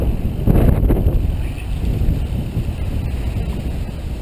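Strong wind buffets the microphone during a recumbent bicycle ride on a breezy day, a loud, steady low rumble with gusty swells and no pauses.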